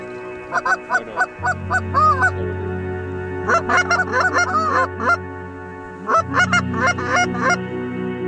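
Geese honking at the roost during a migration hunt, a flock calling in repeated close bursts of nasal honks over a low steady drone, with short pauses between clusters.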